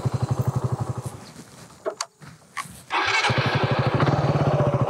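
A carbureted Raider 150 motorcycle engine putters close by in a rapid even idle, dips into a short quieter gap, then rises louder and steadier as the bike pulls away in first gear.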